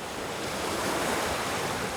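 Ocean waves wash onto the shore of a coastal peninsula with a continuous roaring surf and wind noise, steady and close with no voices.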